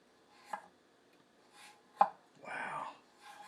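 A handmade Japanese nakiri knife chops through food in a few sparse, crisp strokes, each a sharp close cut against the board with quiet gaps between.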